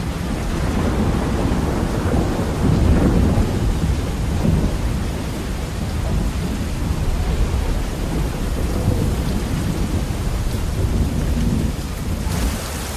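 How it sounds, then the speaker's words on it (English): Heavy thunderstorm over the Amazon rainforest: dense, steady rain pours on surfaces while deep thunder rolls and rumbles throughout, loud and enveloping, with no voices. "the champion wrestler Chumin tries to brave the oncoming storm"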